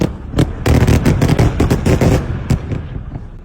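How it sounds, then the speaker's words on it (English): An Israeli airstrike hits the European Hospital in Gaza, a rapid burst of loud, sharp blasts and cracks tumbling over one another for several seconds. The rumbling impacts stay close and heavy, then thin out into a decaying roar. "Israeli airstrikes target the hospital."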